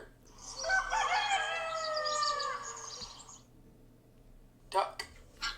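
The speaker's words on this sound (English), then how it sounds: "Rooster." A rooster sound effect played in the Construct 3 app crows once in a long cock-a-doodle-doo, followed by a brief spoken word.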